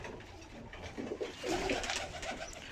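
Pigeons coo softly in a loft, several low throaty calls overlapping at close range over a faint background hum.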